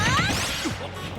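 A forward smash landing in a Super Smash Bros. match between Zelda and Little Mac, a quick whooshing swing followed by a sharp crashing impact, brief and loud amid game effects.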